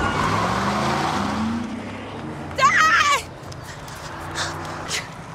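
A car rumbles steadily from inside as it drives, a low engine drone with a brief sharp squeal partway through, under excited speech.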